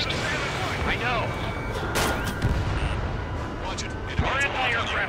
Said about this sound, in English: They already are firing on us